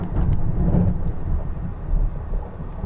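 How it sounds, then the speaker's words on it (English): Thunder from the video game Minecraft rolls loud and low, a sustained rumble with faint rain hiss underneath and no voices. "Thunder."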